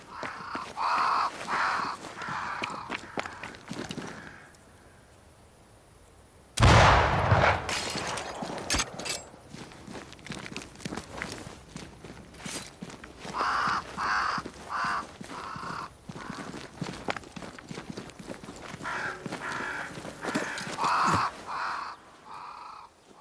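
Crows flocking around a great tree in Banishers: Ghosts of New Eden caw in repeated harsh bursts, loud and near, broken by a brief quiet gap and a sudden crackling burst before the cawing resumes.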